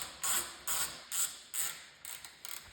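A size 10 socket wrench tightens bolts on a Cub Cadet snowblower, with four loud ratcheting bursts in a steady rhythm, then a few shorter, quicker clicks, close up.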